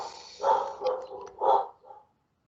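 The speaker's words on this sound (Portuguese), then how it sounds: "começa logo o cachorro do vizinho encher o saco" A neighbour's dog barks a few times nearby, several short muffled woofs over about two seconds, followed by quiet.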